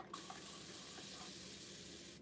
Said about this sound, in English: So I'll just get this paper towel wet.